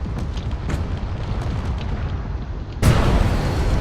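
A battleship crashing into the ground and blowing up in a drone combat video game, with a rumbling battle din that breaks into a sudden loud explosive boom, its deep roar continuing afterward.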